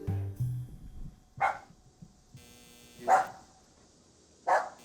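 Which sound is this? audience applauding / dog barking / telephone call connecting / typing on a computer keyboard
dog barking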